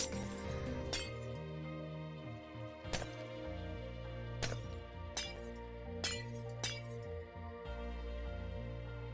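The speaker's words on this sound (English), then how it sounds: "I'm just going to break some of this glass to get a little bit of a better look" Glass blocks shatter in Minecraft, several sharp clinking breaks at irregular intervals over a steady background of game music.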